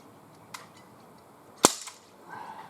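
A Gamo MP-9 air pistol fires outdoors with one sharp, loud crack, preceded by a faint click and followed by softer rustling handling noises.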